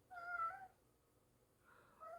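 Mishka the cat meows twice, faint and fairly close, two short tonal calls separated by about a second of quiet.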